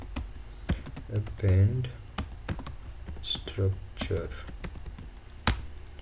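Scattered keystrokes on a computer keyboard while entering a name in SAP software, sharp clicks in short irregular bursts under someone speaking Hindi nearby.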